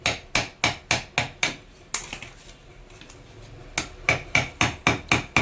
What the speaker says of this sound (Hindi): इसी प्रकार से स्टार्टिंग वायर को भी हम एक एक करके सब काट लेंगे